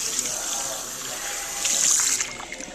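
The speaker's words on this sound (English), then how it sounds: "Now we're hitting it with water, and we're going to do a wet emulsification" Water splashing onto hair being moistened in a salon wash for a wet emulsification after red INOA colour, a steady broadband spray that swells briefly, with faint voices underneath.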